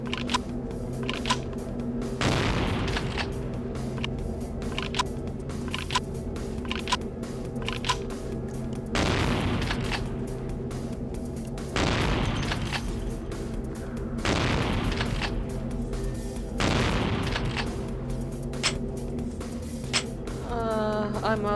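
Gunfire in the vampire role-playing game Vampire: The Masquerade - Bloodlines: several loud, sharp shots spaced a few seconds apart, layered over a steady game soundtrack with faint talk underneath.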